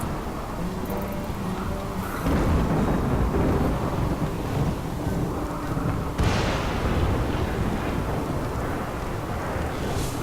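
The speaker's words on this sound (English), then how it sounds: "Okay, we've got a bit of a storm going on." Thunder cracks and rolls through a storm in the video game RimWorld, with two sharp strikes followed by long rumbling tails over a constant rainy wash.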